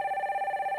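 A telephone ringing as a viewer's call connects on a live stock-consultation broadcast: one short electronic trill, steady and fairly loud, with no talk over it.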